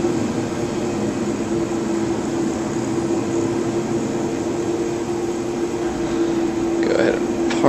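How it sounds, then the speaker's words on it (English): A helicopter in Ghost Recon Wildlands drones with a steady engine hum and a sustained rotor tone, holding close and even throughout, with a short burst of other game sound near the end. "go ahead and park our little chopper just right across the little river here"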